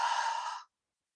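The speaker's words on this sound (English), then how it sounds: "Take in a deep inhale through your nose and a huge exhale." A single breathy exhale, close and airy, lasting just over half a second before silence, as in a yoga breathing exercise.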